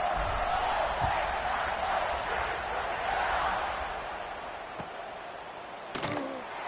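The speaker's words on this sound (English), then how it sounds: "this crowd now ready to get behind them" A stadium crowd roars in a steady wash of cheering before the kickoff of a college football game, the noise gradually easing, with a thud and a sharp burst near the end.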